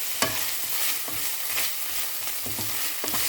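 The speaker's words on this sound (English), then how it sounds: "Then add 20 grams of minced pork and continue stirring until the meat is well cooked." Minced pork stir-frying in a pan with a steady broadband sizzle, broken by several spatula scrapes and stirs at irregular intervals, close and moderately loud, with no voices.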